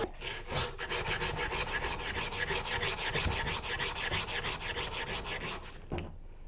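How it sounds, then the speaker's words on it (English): Steady rapid scraping on a metal surface to remove its thin oxide layer, a continuous rasping stroke rhythm lasting several seconds, close and loud, then stopping abruptly, no speech. "When we scrape this thin oxide layer, the oxide layer gets scraped off."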